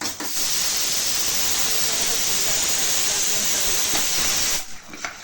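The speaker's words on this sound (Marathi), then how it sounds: "तोपर्यंत त्याला छानपैकी असं फ्राय करून घ्यायचा, जोपर्यंत त्याला तेल सुटत नाही तोपर्यंत" Mutton masala frying in oil in a home kitchen, a loud continuous sizzling hiss that holds steady for about five seconds and then fades out.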